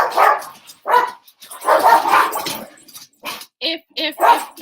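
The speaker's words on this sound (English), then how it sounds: "If you can forgive me for the dog barking" A pet dog barks loudly and close in several sharp bursts, with a few yips overlapping a woman's speech in a home setting.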